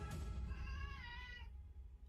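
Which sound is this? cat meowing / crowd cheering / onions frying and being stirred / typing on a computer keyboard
cat meowing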